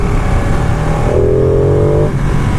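2018 Ducati Panigale 959 Corse motorcycle being ridden on a road, a loud steady engine drone with a rising whine partway through, over constant wind and road noise.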